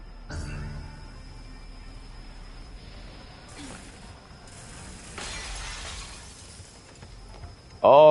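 Glass shatters in the video game Stellar Blade, a sudden loud crash with tinkling fragments over game ambience and mechanical clicks, ending in a louder burst.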